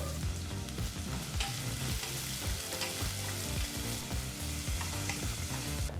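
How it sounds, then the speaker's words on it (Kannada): Fennel seeds, kasuri methi and finely chopped onion fry in hot oil over a medium flame, a loud, dense, continuous sizzle with stirring scrapes, heard close up with no talking. "ಈಗ ಬಿಸಿಯಾದಂಥ ಎಣ್ಣೆಗೆ ಸ್ವಲ್ಪ ಸೊಂಪು ಕಾಳು ಸ್ವಲ್ಪ ಕಸೂರಿ ಮೇತಿನ ಹಾಕಿ ಹಾಗೆ ಭಾಳ ಚಿಕ್ಕದಾಗಿ ಕಟ್ ಮಾಡಿದಂಥ ಒಂದು ಈರುಳ್ಳಿನ ಹಾಕಿ ಮೂರಿಂದ ನಾಲ್ಕು ನಿಮಿಷ ಮೀಡಿಯಂ ಫ್ಲೇಮ್ನಲ್ಲೇ ಈ ಎಲ್ಲ ಪದಾರ್ಥನೂ ಫ್ರೈ ಮಾಡ್ಕೋಬೇಕಾಗತ್ತೆ"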